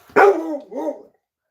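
A dog lets out a single short, loud bark that trails into a brief growling whine, close by and alone in a quiet room.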